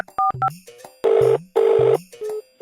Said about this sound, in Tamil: ஒரு கால் பண்ணுறேன்.